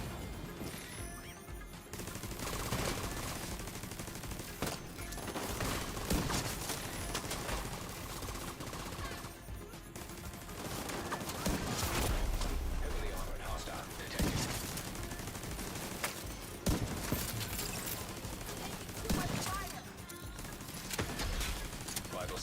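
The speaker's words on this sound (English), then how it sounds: "Who the hell is shooting at me?" Sustained gunfire in The Division 2 video game, with dense bursts of automatic shots and crashing impacts going on in waves across the whole stretch, mixed with game noise and occasional talking.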